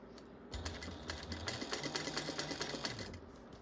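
A domestic sewing machine stitches two bag lining pieces together, giving a steady, fast mechanical chatter of needle strokes that runs without pause at moderate volume.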